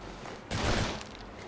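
A brief loud burst of submachine gun fire in the Urban Chaos video game, a rapid half-second volley standing out over quieter game ambience.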